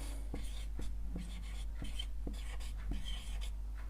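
Writing on a board during a class 10 maths lesson, heard as a faint series of soft strokes and taps at an uneven rhythm over a steady low hum, with no talking.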